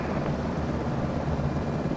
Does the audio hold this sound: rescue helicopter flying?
yes